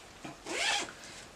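A blue zipper on a handmade fabric project bag is pulled in one quick, raspy zip lasting under half a second, close and clear, preceded by a faint short scrape.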